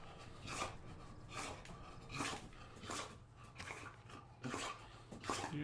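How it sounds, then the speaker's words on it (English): A dog in a home gives a series of short whimpers and soft barks in repeated bursts about a second apart, fairly quiet and close, with no talking. "let my dog out"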